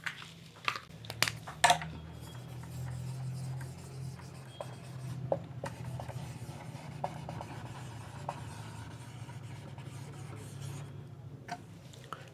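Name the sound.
writing on a board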